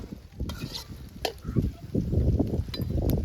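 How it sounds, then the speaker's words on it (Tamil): Star-cut bitter gourd pieces are stirred in a hot pan with steady scraping and clinking of a spoon against metal, frying at close range and moderately loud. "பாகற்காய் நல்லா பொன்னிறமா வர மாதிரி கிண்டிக்கிட்டே இருக்கணும்"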